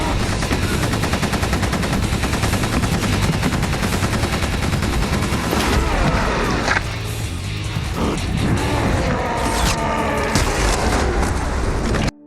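Marines firing at a mutating man in the animated film Resident Evil: Degeneration, heavy sustained machine-gun fire roaring continuously and loud with booming impacts, briefly dipping midway before resuming.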